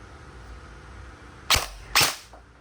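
Poseidon Theseus AEG airsoft gun, straight out of the box with a built-in tracer, fires two sharp, loud cracks about half a second apart, then a faint trailing tick.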